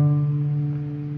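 A single open D string on a cello is plucked pizzicato and rings out steadily, sustaining with a warm, harmonic tone that fades slowly.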